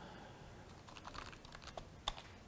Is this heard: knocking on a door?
no